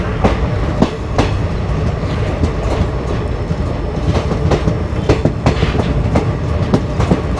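The Shramjeevi Express rolls at Phulwari Sharif station, its wheels clattering in a steady clickety-clack with repeated sharp rail clicks, loud and close, with no voices.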